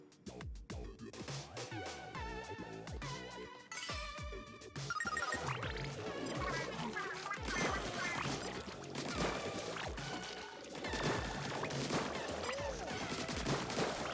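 Burst bombs bursting in Splatoon 3 amid a dense, busy game soundscape, with repeated sharp splattering pops and bursts over continuous music and effects throughout.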